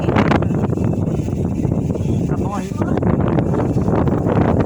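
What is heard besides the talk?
wind blowing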